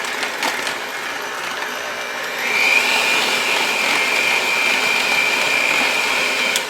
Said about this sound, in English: Get up on the sides of your bowl with your mixer, so just up and down